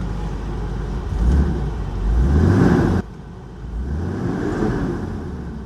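A Toyota 3FE engine drives a vehicle, its low engine tone climbing twice as it pulls under load. A brief drop follows, then a steady cruise. It sounds close and fairly loud, with no talking.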